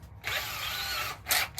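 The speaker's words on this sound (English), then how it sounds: "I want this 10mm drill bit." A drill with a 10mm bit whirs in a woodturning workshop, with a sustained mechanical grinding whine for about a second, then a short, sharper burst.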